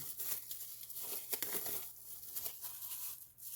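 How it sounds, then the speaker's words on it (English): Plastic packaging crinkles and tears as Hydrocal plaster model railroad walls from a Craftsman kit are unwrapped, a steady close run of rustling and ripping. "we're just going to unwrap these and start our prep work"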